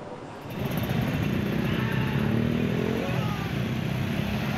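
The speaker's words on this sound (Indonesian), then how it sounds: "kebisingan dari knalpot motor mereka" Loud, continuous engine roar from motorcycles fitted with modified brong exhausts, a steady low rumble that swells after a brief quieter start and holds without pause.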